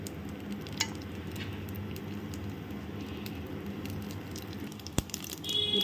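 Dried red chillies crackle in hot groundnut oil as a tempering with mustard seeds and urad dal, making a steady low sizzle with a few sharp pops and light clinks near the end.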